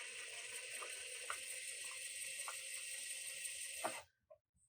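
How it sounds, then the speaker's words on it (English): A steady whirring, clicking ratchet-like drive runs for about four seconds, likely a power screwdriver driving a screw during a Fender Noiseless Strat V4 pickup install, then cuts off abruptly into near silence. "I kind of feel like just going ahead and screwing that in"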